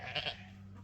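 Sheep give a short, faint bleat at a watering place on a riverside game farm near Nylstroom, heard from a short distance against low background hum.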